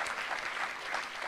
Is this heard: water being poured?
no